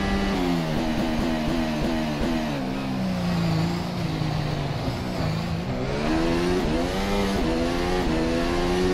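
A Formula SimRacing FSR 2018 development car racing around Monza in rFactor 2, its engine screaming continuously at high revs with rising and falling pitch through gear changes, loud and close.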